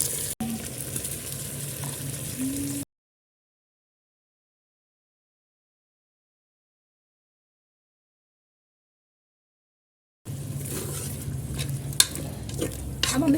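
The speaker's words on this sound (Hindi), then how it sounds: "अब हम इसके अंदर टमाटर डालने लगे हैं।" Tomatoes fry and are stirred into a pan of chicken curry, giving a close, even sizzle with light stirring scrapes. The sound cuts out entirely for several seconds in the middle and then resumes.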